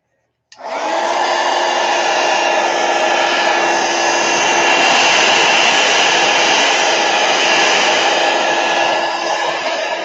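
A hair dryer blows steadily on tissue paper, starting abruptly and holding a loud, even whooshing hum with a faint tonal whine throughout, no voices over it.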